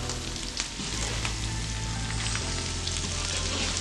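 Prawn biryani masala fries in a pan on a stove in Bheemavaram style, giving a loud, steady, dense sizzle and crackle under a constant low hum, with no voices.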